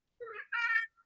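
A pet cat gives a single clear two-part meow close by, short and rising, in an otherwise silent room.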